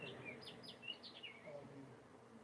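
A young bird sings just outside a window in a short run of high chirps and tweets, close but fairly quiet, over soft room ambience.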